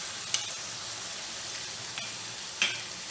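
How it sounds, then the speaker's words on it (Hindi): Vegetables for fried rice fry in a hot pan after red chili sauce and dark soy sauce go in, a steady soft sizzle with a few sharp clicks and stirring knocks, close and alone without talk. "हमारी जो सब्जियां हैं ना एकदम अच्छे से परफेक्टली फ्राई हो चुकी है"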